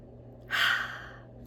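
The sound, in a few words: deep breath in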